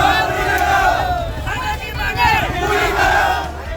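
A dense crowd of protesting farmers outside the DMO office in Chhindwara raises agitated shouts and overlapping voices, a loud, continuous swell of babble with rising cries throughout.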